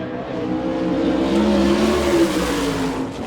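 A USAC sprint car, the number 97 with a Gertie engine and Stealth chassis, screams around Rossburg's dirt oval on a qualifying lap, its loud, steady high-revving roar swelling slightly mid-pass with no voices.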